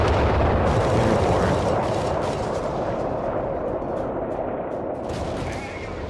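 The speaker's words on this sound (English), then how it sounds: "Oh, here comes a bombing run." Bombing-run explosions in the Company of Heroes 3 video game rumble loudly and continuously, with dense booms and gunfire that slowly fade toward the end.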